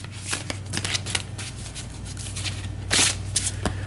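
A stack of cards from the Eldritch Horror board game is shuffled up close, with dense riffling, rustling and flicking that keeps going and grows louder near the end, no voices over it.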